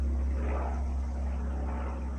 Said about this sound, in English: And a helicopter or something is going by.